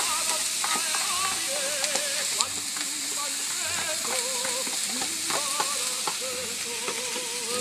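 Fresh garlic, green pepper, carrots and onion sizzle steadily in a hot pan, with close stirring scrapes and scattered crackles throughout.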